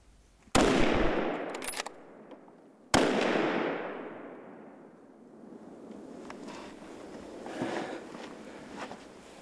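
Two sharp, loud hunting rifle shots crack out a couple of seconds apart at sunset on a hunt, each followed by a long rolling echo that decays across open terrain.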